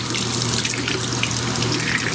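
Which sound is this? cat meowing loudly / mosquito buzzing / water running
water running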